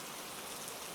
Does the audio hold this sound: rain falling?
yes